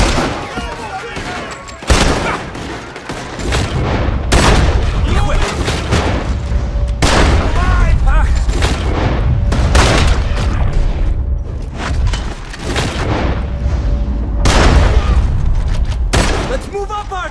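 Gunfire crashes out in a shootout in Red Dead Redemption 2, with repeated loud booming shots and volleys, close and heavy, while voices shout over them.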